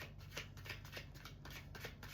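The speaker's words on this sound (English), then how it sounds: "I'm gonna shuffle one more time." A deck of cards is shuffled close up, a quick run of soft riffling flutters and snaps repeating in a steady rhythm with no talking.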